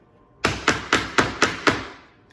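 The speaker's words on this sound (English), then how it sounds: "I usually bang them on the table a little bit or the counter just to kind of get some of those air pockets out." A filled banana bread loaf pan is banged on a kitchen counter six times in quick, evenly spaced thuds, close and sharp with brief ringing after each hit.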